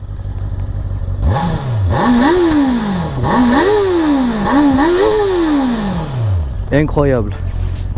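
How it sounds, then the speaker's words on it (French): Honda CB650R four-cylinder engine through its stock exhaust, revved repeatedly in close, loud rising and falling sweeps, then a sharp final blip, with a brief spoken word over it. "je vous fais écouter le bruit de la ligne. C'est un pot d'origine"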